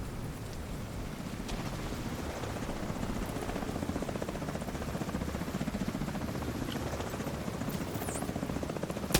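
Helicopter in a video game, with a steady, loud rotor chop and dense engine roar filling the whole stretch without a break and holding a constant distance.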